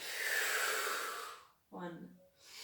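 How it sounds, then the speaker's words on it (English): During a prenatal and postnatal yoga flow, a long, airy breath in gives way to a short gap, followed by a softer breath out that carries a slight voiced tone. The breathing sits close to the microphone and is quiet. "Breathe in and out."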